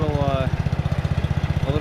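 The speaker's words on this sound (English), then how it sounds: "montage of me cutting the grass" A John Deere 110 lawn tractor, left unused for ten years, mows a yard with a steady, rapidly pulsing engine chug, loud and close, while a voice speaks briefly over it at the start.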